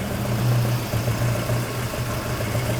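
Volvo 240 engine fitted with Dellorto twin carburettors runs at a low, lumpy idle close by, its deep hum wavering and dipping as it threatens to stall, with no talking.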